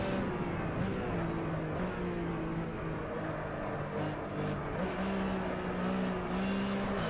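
Porsche 911 RSR 3.0 racing car in the Automobilista racing game at Johannesburg, its engine droning steadily at high revs with slight pitch shifts, loud and continuous with no talk.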